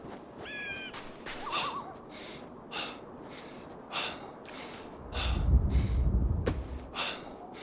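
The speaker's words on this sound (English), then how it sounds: "Breathing harder from slightly sprinting." A character in the survival game Savage Lands breathes hard after sprinting, rhythmic heavy gasps repeating about once a second, fairly close and soft, with a low rumble and a few short tones.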